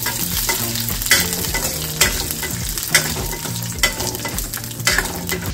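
Almonds and raisins frying in a pan for a sweet flattened-rice payasam, a loud steady sizzle broken by regular stirring knocks roughly once a second, close up.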